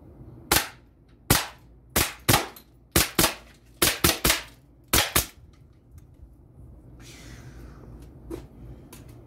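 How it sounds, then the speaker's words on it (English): A semi-auto HPSS air pistol firing H&N Hornet pellets into a speaker from 10 yards: eleven sharp cracks in uneven pairs and singles, each snapping in close and loud with a short ring, then a faint hiss and quiet rustle afterward. "shooting the speaker with the HPSS semi-auto, and we're using the H&N Hornet"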